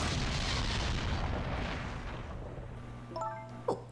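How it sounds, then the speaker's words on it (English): An explosion in the video game Ghost Trick rolls out as a broad, rumbling boom that slowly fades away, followed by a few faint chiming tones. "What in the world? An explosion?"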